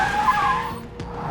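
A car brakes hard on a road, its tires squealing and skidding in a sustained high screech over engine noise, fading near the end.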